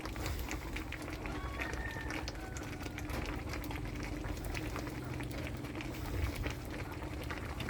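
Saba bananas boiling in a pot make a steady, faint bubbling and rolling simmer with a soft constant hiss, heard close and without interruption.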